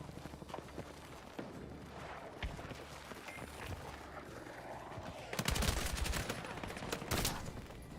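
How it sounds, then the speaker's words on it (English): Rapid submachine gun bursts crackle in a Battlefield 6 firefight, with scattered shots early on and a louder, dense cluster of automatic fire near the end amid other battle noise. "Shots. That was an SMG."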